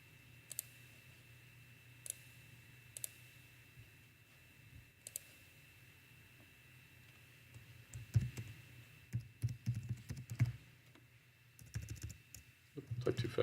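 Computer keyboard typing while site details for OTDR fiber testing are entered: sparse, faint clicks at first, then a denser run of quick keystrokes, over a low background hum.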